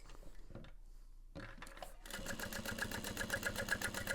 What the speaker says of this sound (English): And we're going to sew up to marked line